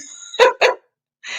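A puppy gives two quick sharp barks close by, then a short whine, with a faint high squeak before and after.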